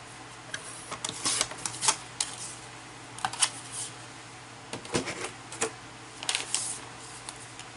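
A paper trimmer slices cardstock scraps in a series of short, crisp cuts and clicks, scattered irregularly with quiet pauses between them.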